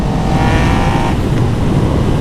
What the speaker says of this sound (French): Quand t'accélères elle est là la moto hein.